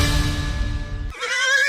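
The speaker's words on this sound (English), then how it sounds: "Is that a horse? Actually, it's a wild stallion." A wild stallion neighs loudly and close in a radio ad, one long quavering whinny that breaks off abruptly and shifts into a higher trailing squeal, alone with no voices.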